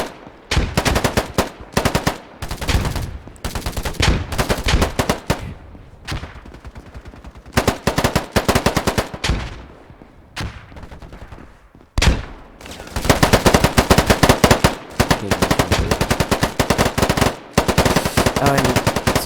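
Machine-gun fire in the video game Polygon comes in long, loud, rapid bursts, repeated again and again with short pauses between them.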